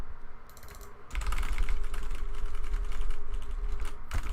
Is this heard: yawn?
no